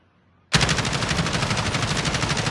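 Sustained automatic machine-gun fire from a gun in the shooter game Modern Warfare, starting abruptly after a brief quiet and continuing as a dense, loud, rapid stream of shots.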